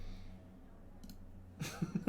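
A few quick, soft mouse clicks during a Magic: The Gathering Online match, faint and close, coming in a short cluster near the end after near silence.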